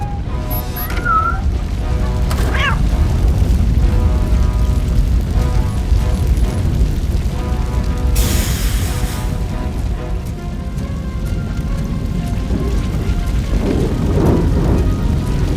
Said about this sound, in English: We cannot go through. Fire is blocking the way.